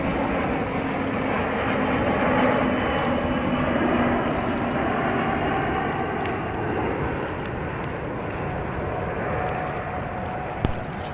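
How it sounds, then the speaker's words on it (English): An Airbus A321-231 airliner, eight years old, roars steadily at JFK airport in New York, a broad jet engine drone with a faint whining tone that slowly fades, heard from the ground with no voices. "This aircraft is an Airbus A321-231 and is 8 years old."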